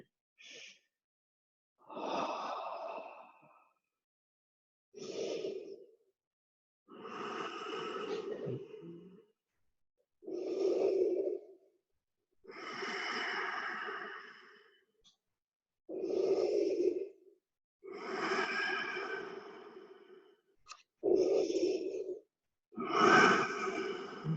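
Long, heavy breaths during a yoga stretch, slow audible inhales and exhales repeating in a steady rhythm with silent pauses between, close and fairly loud with no talking.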